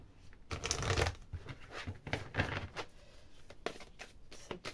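Tarot cards riffled and shuffled by hand in close, crisp bursts of papery flutter and light slapping, repeated several times with short pauses between.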